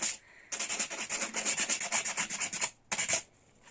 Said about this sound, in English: you can reuse them again by simply getting some sandpaper and scraping off the words